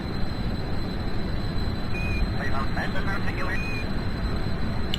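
A jet aircraft engine in the video game Kerbal Space Program, a steady, dense roar that holds at an even level throughout, with brief faint whistling tones riding above it.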